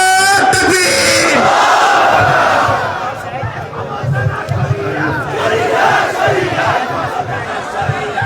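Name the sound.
rally crowd shouting in response to Naara-e-Takbeer call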